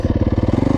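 Yamaha YZ250F motorcycle engine running at low revs with a steady pulsing thump, loud and close, a short rhythmic burst kept on the gas to avoid stalling.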